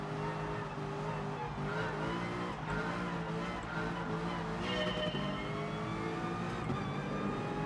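Race car in the GT Sport video game at full pace, engine whining up and down through gear changes with tyre squeal, steady and prominent throughout.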